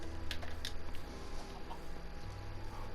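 A chicken gives a few quick, faint clucks early on, over a low steady background hum.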